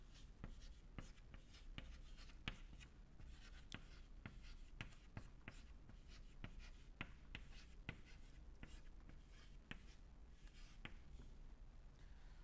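Chalk tapping and scratching on a board as an equation is written during a fluid mechanics lecture on Stokes' first problem, with a steady run of short sharp strokes and taps over a constant hum of room noise.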